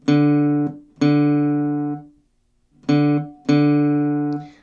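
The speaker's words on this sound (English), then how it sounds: "the bass part would start by doing the D string open 4" The open D string on a guitar plucked four times on the same low pitch, each note ringing briefly before being cut off, with a pause after the second pair.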